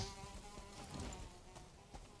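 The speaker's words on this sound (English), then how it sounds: "Oh, some evil mosquito outside as well." A mosquito in the Valheim video game buzzes faintly as a thin, wavering drone, muffled as though heard through walls, quiet and continuous with no talking.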